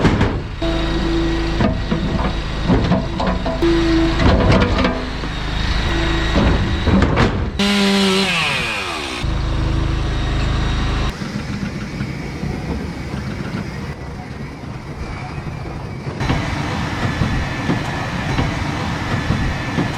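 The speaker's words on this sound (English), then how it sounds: "This is the new conveyor belt tip deck trailer thing, and I'm just testing out for the first time on the job" A conveyor belt tip deck trailer runs on a tree work job, hauling logs and debris. It gives a loud, continuous mechanical rumble with rattling clatter and repeated knocks and thumps, and a brief squealing sweep partway through.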